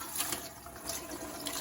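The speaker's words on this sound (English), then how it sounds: "I always pour water in first." Water pours steadily into the bottom of an All-American pressure canner, a continuous close splashing rush with no talk over it.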